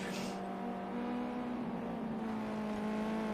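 Racing cars circulate during qualifying in an eSports racing game, a steady, droning engine tone holding at a constant pitch throughout, fairly quiet and alone.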